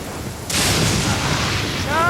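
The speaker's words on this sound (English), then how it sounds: "Lightning storm!" A sudden lightning crack and thunder boom bursts out in a Genshin Impact storm, a loud broadband blast that holds and rumbles over steady rain, followed by a short chiming game cue.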